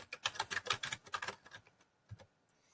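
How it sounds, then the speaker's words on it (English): Keys pressed on a computer keyboard during word processing: a fast run of crisp clicks, then slower isolated taps, close and clear with no talk. "instead of clicking with my mouse, I can also use my down arrow to get to the next box down"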